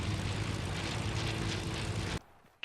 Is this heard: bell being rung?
no